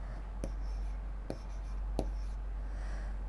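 Chalk or marker strokes on a classroom board, three short sharp scratches spaced about a second apart over a low steady hum, with no talk.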